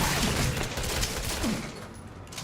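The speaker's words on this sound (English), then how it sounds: "The Magnum will stun him and you can get a few extra shots on him." Magnum revolver gunfire in Resident Evil 7 comes as a dense run of loud, booming shots over roughly two seconds, fading toward a quieter tail before another blast at the end.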